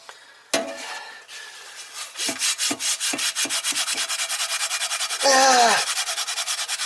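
A cast iron pan being scraped clean during restoration: rapid, steady, rhythmic rasping strokes close up, loud and continuous, with a brief harsher squealing scrape partway through.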